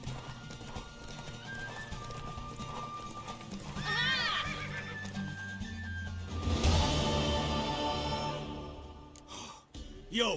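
Horse neighing and whinnying in The Witcher 3, with steady hoof clip-clop throughout and a loud whinny swelling midway, alongside game ambience and faint music.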